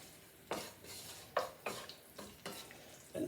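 Garlic frying and browning in a pan for spaghetti with anchovies, a soft steady sizzle broken by several sharp scraping, stirring clatters at uneven intervals.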